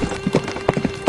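Horses carrying two bandits clip-clop along in a quick, uneven rhythm of hoofbeats, fairly close and clear over the whole brief moment.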